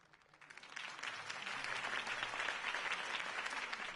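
A crowd bursts into sustained, swelling applause after a campaign speech in a city setting, building quickly and holding steady clapping throughout.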